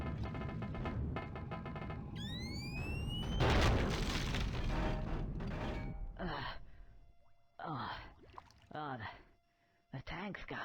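A tank explodes in Conker's Bad Fur Day, a heavy boom with a rushing burst near the middle, preceded by whooshing effects and followed by scattered voices and sparse sounds.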